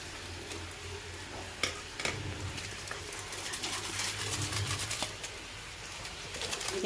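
Spicy chili seasoning paste frying in oil in a pan, a steady close sizzle with occasional stirring clinks and scrapes, no talk heard.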